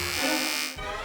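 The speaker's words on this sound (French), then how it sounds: "Ne joue pas avec le rasoir." An electric razor buzzes close by as it cuts a butler's hair, a loud steady whine lasting about a second that shifts tone partway through.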